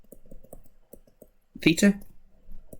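Quick light taps on calculator keys, a string of soft clicks entering a half r squared theta sum, with a voice speaking partway through.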